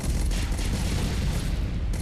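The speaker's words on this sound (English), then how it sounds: "Grenades flying. Cannon fire." Cannon fire and explosions in the video game Warfare 1917, a dense, continuous barrage of booming blasts and gunfire across a World War I battlefield, loud and unbroken, with no voices.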